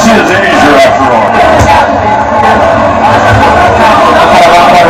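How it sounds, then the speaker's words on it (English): A hometown crowd roaring and cheering at the Pacquiao vs. Rios boxing event in Macau, a dense, loud wall of yells and whoops that swells and dips, with a voice talking over it. "That's what it's like when you have a hometown crowd."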